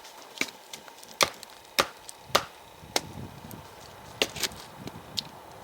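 A Mora Garberg knife is driven through a piece of wood with a weak wooden baton, giving a run of sharp, close knocks at uneven intervals, some louder strikes and some softer taps, with no talking.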